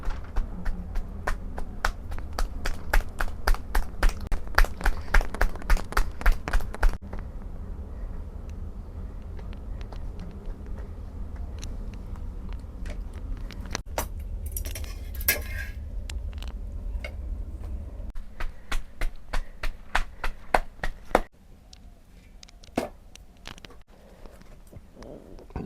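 Thick tikkar bread dough patted and shaped between the hands by a holy man in the Chitrakoot hills: steady rhythmic slaps over a low background rumble, with a pause and looser taps later.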